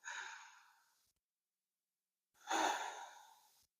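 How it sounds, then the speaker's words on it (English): Two long, deep breaths during a yoga class for lower back strength, each a loud, airy sigh-like exhale of about a second, separated by a silent pause, close to the microphone with no talking. "Take another big breath in and out"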